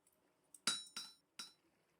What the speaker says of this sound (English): let's start hammering.